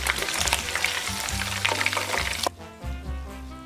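Chicken wings frying in a deep fryer give off a loud, steady, crackling sizzle of bubbling oil, with low clunks beneath it, before the hiss drops away and leaves a quieter rumble.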